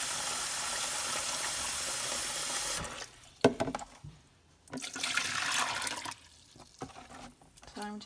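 Water runs steadily onto lithops potting mix, a loud continuous hissing pour, then breaks off into quieter splashes, trickles and bursts of flow.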